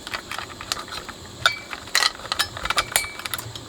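Small metal sockets are pressed and clicked back into the heatsink of a Yamaha professional amplifier, giving a run of close, sharp clicks, scrapes and light metallic clinks of fiddly handling, with no talk.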